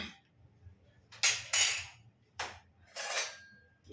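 A metal spoon clinks and scrapes against dishes in a home kitchen, with a few separate bright clattering bursts between quiet gaps.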